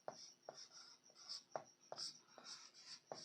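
Chalk or marker strokes on a board during a chemistry lecture, heard as a series of short, scratchy, rhythmic taps and squeaks about every half second, close and fairly faint, with no talking.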